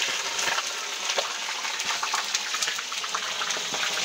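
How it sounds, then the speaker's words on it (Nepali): Fish frying in a pan for a homemade fish curry, a steady close sizzle and crackle of hot oil with small pops throughout. "यसरी माछा तार्ने काम भइरहेछ।"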